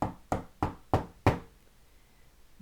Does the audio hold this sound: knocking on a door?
yes